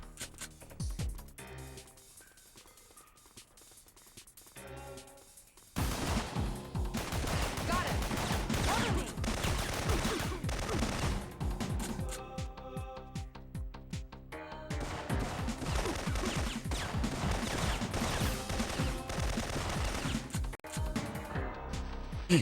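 Rapid bursts of gunfire crackle in the PlayStation game Syphon Filter: a sparse opening, then long stretches of dense, repeated shots with short pauses between volleys.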